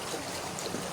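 A river flowing around the small town of Bühl gives a faint, steady rush of moving water, even and continuous with no voices over it.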